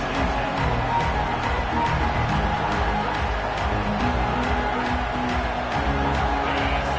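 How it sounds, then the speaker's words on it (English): A football stadium crowd at a Texas A&M vs Arkansas game roars in a loud, continuous wall of noise that holds steady throughout, with no clear voice standing out. "This crowd trying to make life miserable for this offense."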